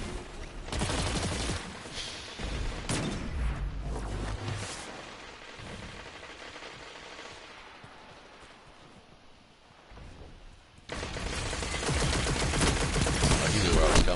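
Dense bursts of video game gunfire from an Iron Banner match, rapid automatic shots crackling loudly and nearly continuously, easing off briefly in the middle before a sustained barrage returns.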